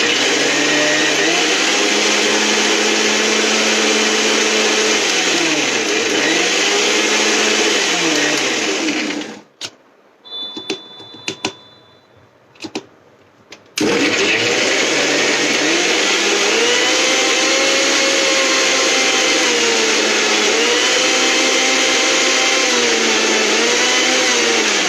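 A loud electric grinder whirs steadily as it pulverizes popped popcorn in a home kitchen, the motor pitch wavering as the load shifts. The machine cuts out for a few seconds with faint clatter in between, then roars back on.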